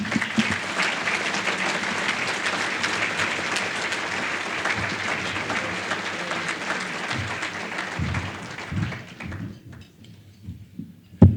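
Sustained audience applause fills a chamber of commerce annual meeting dinner as a speaker is welcomed, steady and dense before thinning out into scattered claps near the end.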